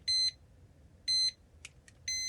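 Alarm beeps from a Nintendo Game & Watch Egg handheld, three short bursts of high electronic chirps with small clicks in between, thin and fairly quiet.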